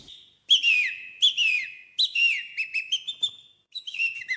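A man whistles an imitation of a European robin's song at a bird-song contest, producing a series of bright, clear trills and descending phrases with short pauses between bursts, near and alone.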